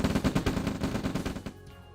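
Rifle fire in the real-time strategy game Red Alert, aimed at an armored Harvester: rapid bursts of loud cracking shots in a quick rhythm that stop abruptly, leaving a quieter tail.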